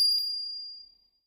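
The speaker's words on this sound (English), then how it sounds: "Thank God for the Jiang Clarity Bell." Jiang Clarity Bell giving a single clear, bright ring that decays smoothly into silence, alone and fairly soft.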